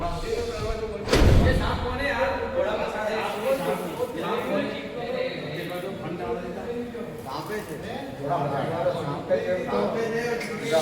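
A door slammed shut with one loud thud near the start, followed by a busy crowd murmuring and talking.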